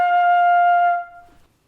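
A single sustained flute note F, clear and steady for about a second before fading into silence.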